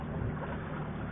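A sailboat's engine runs steadily at 1500 rpm while motoring at 5 knots off Sicily near Trapani, giving a continuous low, even drone with constant wind and water noise.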